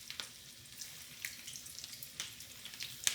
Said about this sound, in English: So I've got some avocado oil here, medium high heat, and I'm just gonna carefully drop them in